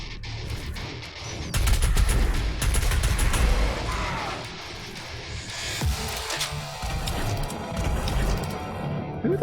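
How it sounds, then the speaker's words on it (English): Dense gunfire rages through a DOOM Eternal firefight, rapid bursts and heavy impacts crashing nearly continuously at close range, loud and chaotic with no voices. "Who the hell is firing at me?"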